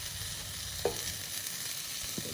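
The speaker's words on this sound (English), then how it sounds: "Put bacon on." Bacon sizzles and crackles in a pan over a campfire, a steady close hiss broken by a sharp clank of a utensil or pan and a softer knock near the end.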